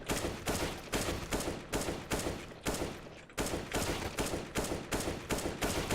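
Gunfire in the video game CS:GO, a rapid series of sharp shots in quick bursts, loud and close, with brief pauses between the volleys.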